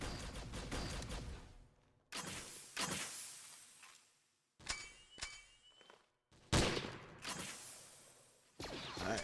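Alternate fire of a gun in Garry's Mod Star Wars RP: bursts of loud, harsh blaster-like shots in several separate volleys with brief gaps, close and dominant, with no talk.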